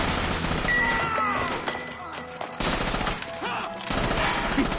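Gunfire during a hostage standoff in Assassin's Creed Rogue, with dense bursts of shots and crashing impacts over a steady battle din, while voices shout beneath the noise.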